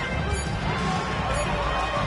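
A basketball is blocked and caroms hard off the backboard in an NBA 2K25 Hornets vs Grizzlies game, giving a brief loud smack over constant arena crowd noise.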